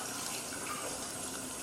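A household tap runs with a steady, constant gush of water, filling the whole moment as a soft hiss-like wash, with no voices heard.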